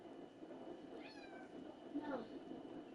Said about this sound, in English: I got a naughty cat.